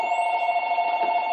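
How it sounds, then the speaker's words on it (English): A telephone rings at home with a steady electronic tone, clear and alone for just over a second. "and the phone rings"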